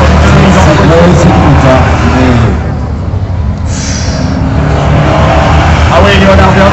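Race cars roaring down the straight in a group of three, a loud continuous engine blare that swells and fades as they pass, with an excited commentator talking over it.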